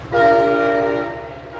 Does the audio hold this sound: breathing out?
no